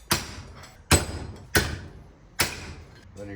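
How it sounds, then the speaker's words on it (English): Four sharp hammer blows strike a length of rebar used to drive out a bearing during a burnt Yamaha Banshee ATV restoration, each a loud metallic clank with a short ringing decay, spaced unevenly. "Basically, I'm gonna put this piece of rebar in here and it's gonna catch on that ledge like that. And then I'm gonna hit it with a hammer."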